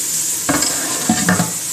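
Kangaroo tail sizzles and spits in a hot pan, a steady close frying hiss broken by a few louder bursts as the meat is stirred or moved.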